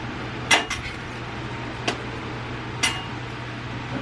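A metal spatula scrapes and clacks against a hot Blackstone griddle during a breakfast cook, giving three sharp, separate metallic taps over a low steady sizzle and hum, fairly faint and without talk.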